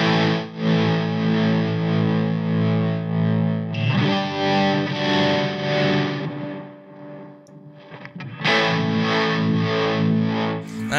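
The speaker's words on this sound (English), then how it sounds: "And put on the Flint with some tremolo, which I can control with the expression pedal." Electric guitar played through a Flint tremolo and amp, routed via a Moen GEC8 switcher with expression-pedal control: loud sustained distorted chords with pulsing, wavering modulation, a brief dip near the middle before another strummed chord rings out.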